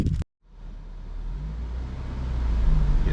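A Honda Civic SI EP3 on its first drive after years parked rolls off, the low engine and road noise building steadily after a brief gap of silence, moderately loud and close.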